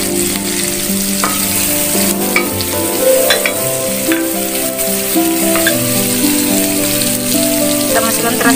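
Chili frying in a pan of sautéed kencur leaves mixed with Japanese papaya and cassava leaves, a steady loud sizzle with stirring scrapes and spattering crackles running throughout, no voices.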